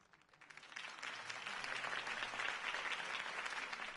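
Crowd applause in the video game Batman: The Telltale Series on PS4 breaks out, swelling within a second and holding steady as a dense wash of clapping.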